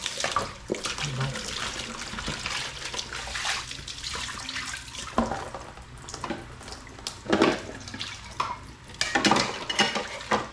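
Plates and pots being washed by hand in a home kitchen with water running, clinking and scraping dishes under a steady wash of tap noise, with a person talking over it.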